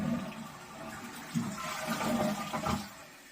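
A newly installed toilet flushes, with close, loud rushing and gurgling water that swirls on for a few seconds, rising to splashy surges before it starts to settle.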